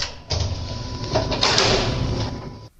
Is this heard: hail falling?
no